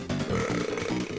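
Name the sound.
burp from the Boogerman video game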